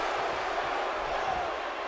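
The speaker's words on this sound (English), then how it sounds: "Chants echoing here in Philadelphia." Steady, loud roar of a chanting arena crowd in the WWE 2K17 video game at a Battleground event in Philadelphia, a dense wall of massed voices without pause.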